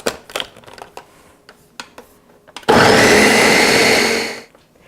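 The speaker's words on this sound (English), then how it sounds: "So I blended my peach mixture for about 45 seconds" Scattered clicks and taps lead into a loud blender burst that runs steadily for about two seconds, pulsing a peach mixture for sherbet, then cuts off.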